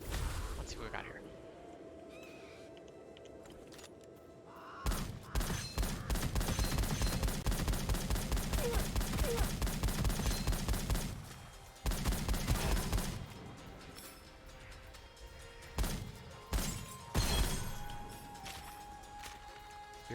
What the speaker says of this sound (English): Weird shotgun is weird.